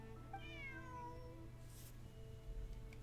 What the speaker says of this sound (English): Bonnie is Pierre's cat.